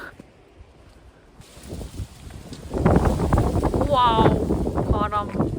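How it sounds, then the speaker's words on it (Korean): Strong winter wind buffets the microphone outdoors on Jeju Island, a loud, gusty rumble that rises and stays heavy while people talk and exclaim over it. "와우, 바람."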